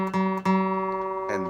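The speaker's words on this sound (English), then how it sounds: "you can play the 5th fret of the D string, because that is the same note as G, as the G string" A guitar sounding G on the fifth fret of the D string: a sustained plucked note with rich harmonics, struck twice close together near the start and again softly near the end, clear and alone.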